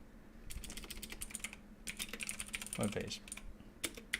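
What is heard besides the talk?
typing on a computer keyboard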